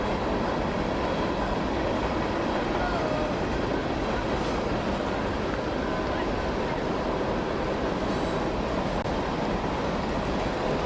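A long train rumbles past near an outdoor swim meet, a steady broadband roar that fills the whole stretch without letup, with faint crowd or announcer voices mixed underneath.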